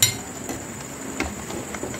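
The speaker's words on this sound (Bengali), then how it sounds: "চিকেনটা আমি সসপ্যান থেকে এবার তুলে নেব।" Metal utensil clinks against a saucepan as cooked chicken is lifted out while making whole-chicken dum biryani, several light, sharp taps spaced irregularly over a low kitchen hum.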